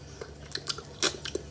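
Soft, close chewing and biting of food while tasting a crab marinade made with fish sauce and light soy sauce, a few irregular wet crunchy bites across a brief moment with no talking.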